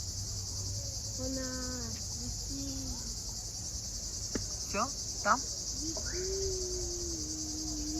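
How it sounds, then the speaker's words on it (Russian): A constant high, dense insect drone of cicadas along a lantern-lit forest trail near Sochi at night, holding steady under quiet conversation while other faint chirps and calls come and go. "Слушаем цикады."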